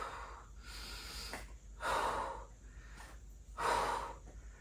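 Heavy breathing during a low-impact full-body workout, with two strong, loud exhales separated by quieter in-breaths, close to the mic and alone without speech.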